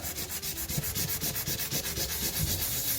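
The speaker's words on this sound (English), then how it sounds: "Going to rub the blues all together, up and down." Blue crayons rub back and forth across paper in a steady up-and-down rhythm, a close, scratchy repeated scraping heard alone without talk.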